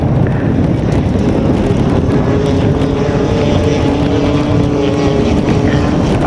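Motorcycles race on a sand course, a loud, steady engine roar that holds without a break throughout, with no voices over it.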